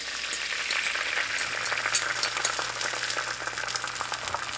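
A fresh farm egg fries in a hot pan, giving a steady, close crackling sizzle with small pops and no talking.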